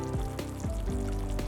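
Tomato and tofu braising in sauce in a pot over medium heat, a steady close bubbling sizzle throughout.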